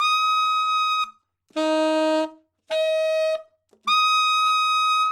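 A saxophone plays four sustained high altissimo F notes separated by short silences, clear and close, with no voices.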